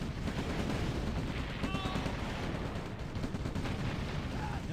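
Gunfire from a Red Alert (OpenRA) team battle: constant rattling shots and booming impacts blend into a dense, unbroken roar of combat that stays loud for the whole stretch.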